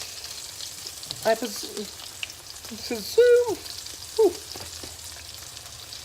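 Sausages frying in spiced grease in a pan, a steady crackling sizzle throughout with occasional stirring clatter and a brief spoken remark over it.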